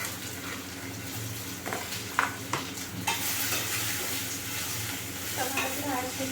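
Tomatoes tipped into onions already fried in oil, stirred around a pan with a steady sizzle underneath and a few sharp clatters of the spoon partway through.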